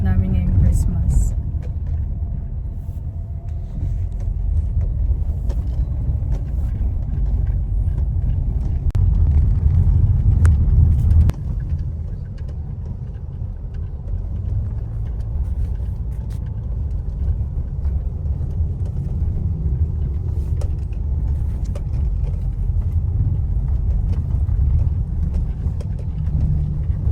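A car rolls along on a road trip, with steady low engine and road rumble filling the cabin throughout and occasional voices talking over it.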